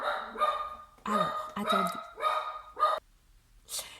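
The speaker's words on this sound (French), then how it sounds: "C'est le petit chien qui aboie." A small dog barks in a run of about five sharp, close yaps with short gaps, followed by a fainter whimpering yip, and a voice speaks briefly at the start.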